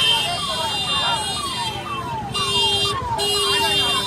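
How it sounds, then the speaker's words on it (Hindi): Fire brigade vehicles sound their hooters at a major fire at Maha Kumbh 2025, a repeating falling wail cycling steadily at a moderate distance, with crowd noise and voices underneath. "फायर ब्रिगेड की जो गाड़ियां हैं वो अभी भी पीछे हूटर बजा रही हैं"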